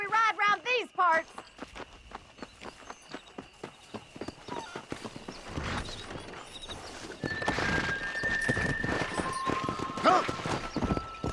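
A horse in Red Dead Redemption whinnies, then its hooves clip-clop in a steady rhythm that speeds into a gallop, close and clear, with a short spoken call at the start and game sounds building behind.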